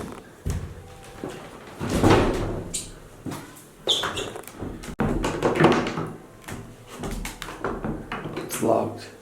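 Someone tries a locked church door, producing several sharp knocks, rattles and thuds up close, interspersed with people talking.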